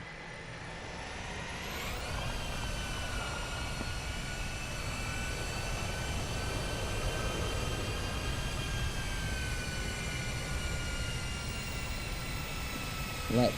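A ToLiss A319 airliner in X-Plane 12 touches down on the runway at Geneva or Milan, a steady loud roar of engine and rolling noise with a rising whine early on, continuous and close without any talk.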